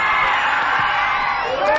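A crowd cheers and whoops at a schoolboy rugby match as a conversion kick goes over, a sustained roar of voices filling the whole moment without pause.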